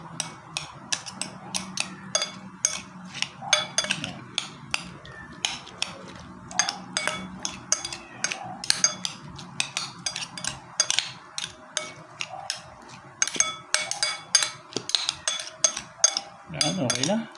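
Utensils toss and mix a homemade vegetable salad in a bowl, giving repeated close clinks and scraping taps in an uneven rhythm, with a voice talking faintly underneath at times.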